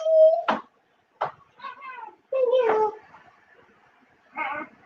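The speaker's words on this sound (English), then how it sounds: "I was rudely interrupted by a cat." A cat meows several times, a clear near call followed by shorter chirps and yowls with gaps of quiet between them, with some voices mixed in.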